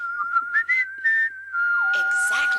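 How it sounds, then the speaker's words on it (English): A person whistles by blowing air through pursed lips, holding a long steady tone that breaks into short bursts, then slides lower and carries on under a brighter burst of other sound near the end. "Like when people whistle by blowing air through their lips."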